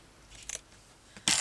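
A few crisp snips of scissors cutting material for a stitched journal cover, close and quiet, spaced apart, with the final cut the loudest.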